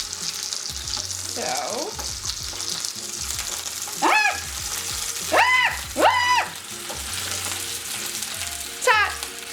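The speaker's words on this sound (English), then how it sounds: "So all I do is just, you know, like flip them until they are like brown on all sides." Trader Joe's roasted garlic chicken sausages fry in a pan with a steady nearby sizzle, while someone talks briefly and several high squeaky sounds cut through.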